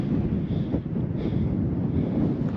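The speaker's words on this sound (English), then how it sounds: "It's windy up here" Wind gusts across an exposed desert cliff top, a steady low rumble of microphone buffeting that swells briefly, close and loud, with no voices.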